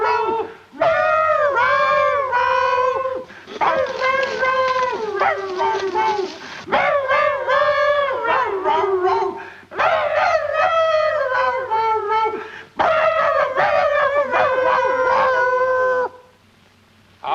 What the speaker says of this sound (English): Sounds like all the coyotes in the country's moved in on us.